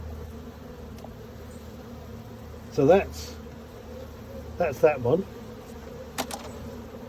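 Bees and wasps buzzing around a skep hive during a September inspection, several short close buzzing passes rising over a low background hum, with someone talking briefly.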